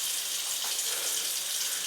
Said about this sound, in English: Gradually add cold water, a little bit going nice and slow